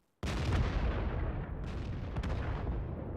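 A heavy artillery shot fires in World of Tanks, a sudden loud boom that swells into a long, rumbling roar and stays loud, with a few crackles as it rolls on.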